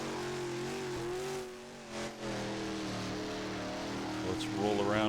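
A car engine in a PC dirt track racing game, a steady droning hum with sustained tonal engine harmonics that rise into revving near the end, under a moderately loud continuous background.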